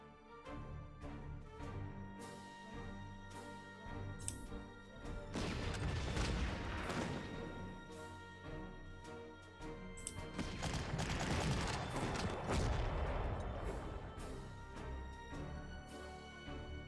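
Tank guns and gunfire in the Panzer Corps war game: repeated sharp shots and crashing bursts, with two heavier, swelling barrages rolling through, loud and close.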